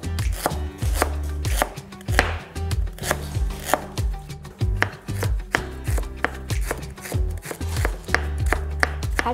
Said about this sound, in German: werde danach dann den Ingwer in feine, dünne Streifen dann auch schneiden